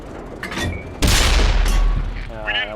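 A heavy tank cannon booms loudly once in a Tier 10 Ru 251 tank battle game, its blast rolling into a long rumbling decay amid other game noise.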